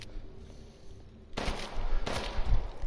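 Gunfire in a first-person video game during a chase toward Beneviento's house: a couple of loud bursts of shots after a quiet stretch, with rumbling low-end impacts.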